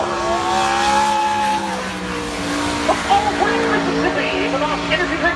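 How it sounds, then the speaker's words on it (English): Sprint car racing on a dirt track with Ricky Stenhouse Jr. driving: loud, continuous engine roar whose pitch climbs and falls as the car works through the laps, with brief tire squeals and rough, scrabbling bursts near the end. "I have a clip of him racing in a sprint car race"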